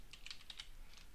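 Quick bursts of computer keyboard typing while entering a Gmail label search, about eight light clicks in an uneven rhythm, close and fairly quiet, with no talking.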